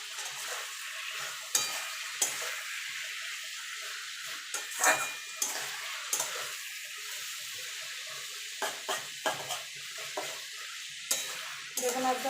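Spinach with whole beans, eggplant and cauliflower, a vegetarian dish, sizzles in a pan. A steady fry hiss runs throughout, broken by a dozen or so clattering stirs and scrapes of the spoon, close and moderately loud, with no talking.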